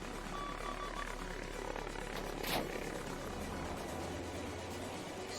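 A Spitfire VA flies in an aerial combat video game over Arras, giving a continuous droning engine hum with a low steady tone and a brief whooshing swell midway, moderately loud and alone.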